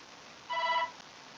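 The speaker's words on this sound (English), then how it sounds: "my phone always goes off" Phone ringing, a single brief electronic tone burst, soft and somewhat distant against a quiet room hum.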